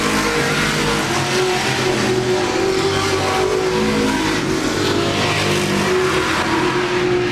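Race cars at Laird Raceway roar around the track during a Thursday night racing event, a loud, steady blend of engines revving and droning with no breaks, heard up close without talk.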